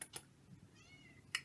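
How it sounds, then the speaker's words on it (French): A house cat meows at the door, wanting to be let in: a thin, faint mew in the middle under quiet room noise, with a couple of soft clicks around it. "Mon chat veut rentrer."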